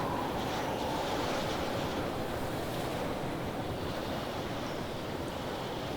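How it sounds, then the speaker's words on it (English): Strong wind roaring through a stormy setting in the video game Pacific Drive, a dense, continuous, loud broadband rush that holds steady across the whole span with no voices. "Wow, that wind has really picked up."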